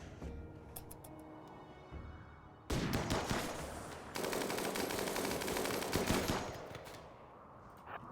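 A minigun fires in RimWorld in long, dense bursts of rapid shots. A short rattle comes first, then two sustained loud volleys run for several seconds and taper off, with no talking.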